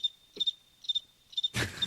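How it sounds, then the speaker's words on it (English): Cricket chirping sound effect, short evenly spaced trills repeating in a clear rhythm, bright and close, ending in a sudden burst of noise. "Crickets. I'm putting crickets there"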